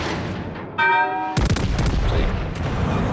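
Battleship 14-inch guns fire a broadside in World of Warships Legends: a sharp, loud booming blast that rolls into rumbling follow-up shots and lingering reverberation, preceded by a short tonal game chime.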